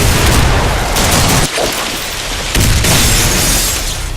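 Heavy, sustained weapon blasts from the shooter Bodycount, a loud dense roar of booming fire with brief dips between bursts and no voices.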